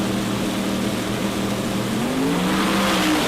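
A turbocharged Pro Mod drag car at an Australian sports compact drag racing event roars under load, its engine note climbing steadily in pitch as it pulls away, loud and continuous with no talk over it.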